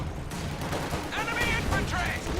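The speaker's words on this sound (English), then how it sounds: "Here comes a Stuka barrage" A Stuka dive bomber barrage hits during a Company of Heroes 2 2v2 match, a dense, continuous rumble of explosions and gunfire with whistling tones above it. A commentator talks throughout.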